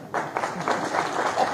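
Brief applause from a crowd at a political meeting sounds as a dense patter of clapping that runs steadily for a moment at moderate loudness.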